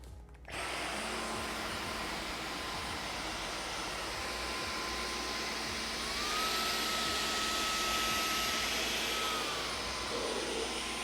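A Dyson Gen5outsize cordless vacuum cleaner switches on after a short click, then runs with a loud steady whine and airy rush, rising in pitch partway through as the motor steps up.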